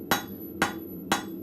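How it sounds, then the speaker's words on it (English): A blacksmith's rounding hammer strikes metal in a forge with three evenly spaced, ringing blows, loud and close, with a faint steady tone underneath. "So I'm going to try the same principle with my rounding hammer."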